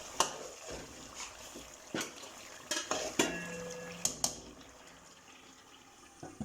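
Chicken korma is stirred in a pot with a spoon, giving several sharp metallic knocks and scrapes at uneven intervals over a faint background hiss, close and moderately quiet.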